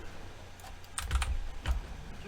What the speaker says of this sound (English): Not good that the keyboard is wobbling about.